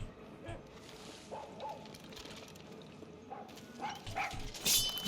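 Chorizo, the small dog companion in Far Cry 6, gives brief yips and whimpers amid game noise and music, with someone talking over parts of it.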